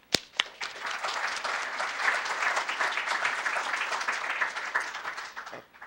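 An audience breaks into warm applause to welcome a speaker at an OWASP security talk, a steady wash of clapping lasting several seconds before fading out.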